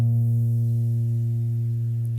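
Single bass guitar string plucked while fretted at the third fret, ringing as one sustained, deep, clean note that holds steady and stops abruptly at the end, close and alone.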